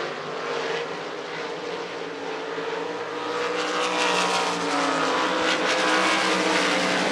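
305 sprint cars racing at Devil's Bowl Speedway in Texas, a loud sustained roar of high-revving engines, one passing car swelling nearer and louder toward the end, with no talk.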